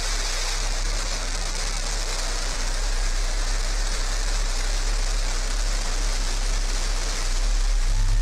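New Shepard rocket engine igniting at liftoff, a loud, continuous broadband roar with deep low rumble that stays dense and unbroken throughout.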